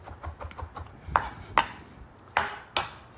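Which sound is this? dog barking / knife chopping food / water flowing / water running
knife chopping food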